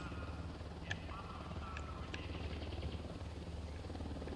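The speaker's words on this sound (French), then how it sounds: "Un hélico de l'unidad." Unidad helicopter in the video game Ghost Recon Wildlands, a faint steady rotor drone with rhythmic thumping running throughout, distant and low in the background.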